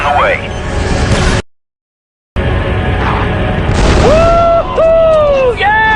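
Explosion in the Star Wars Delta Squad video game, a loud boom burst that cuts to brief silence, then returns amid game effects and rising electronic tones with voices nearby.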